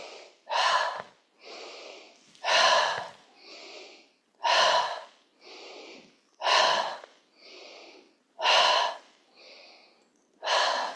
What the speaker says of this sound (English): we're going to start to let the breath come out through the mouth